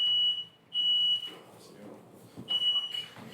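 A fire alarm shrills in two long steady tones with a gap between them, then sounds again near the end, while people talk under and after it.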